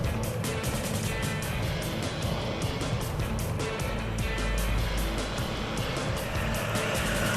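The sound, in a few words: race cars overtaking during a motor race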